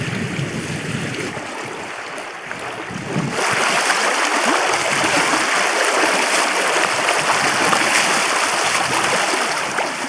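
A river rushes loud and continuous at a hiking-trail river crossing on Iceland's Laugavegur Trail, its broad roar swelling fuller partway through and holding steady with no talking.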